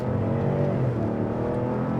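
A 2024 Lincoln Navigator Black Label SUV accelerating, a steady low engine drone with road and wind noise, fairly close and even in level, no talking.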